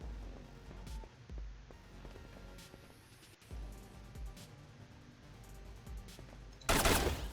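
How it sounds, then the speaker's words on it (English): Pistol gunfire in the video game SOTS: The Pit, with scattered sharp shots and clicks over a low game rumble, ending in a loud, bright burst of gunfire near the close. "That's a pistol."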